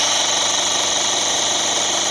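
A Mockmill 200 grain mill set to position 1 runs steadily, a loud, constant grinding whir with a faint ticking texture, no voices.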